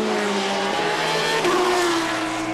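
GT race cars in the Supercar Challenge at Zolder scream wheel to wheel through the chicane, loud engines revving hard with shifting pitch and a touch of tyre squeal, close and continuous.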